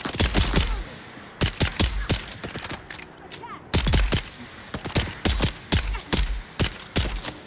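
Rapid bursts of gunfire in the desert survival game Dune: Awakening, loud and close, with repeated volleys and short pauses between shots over about seven seconds.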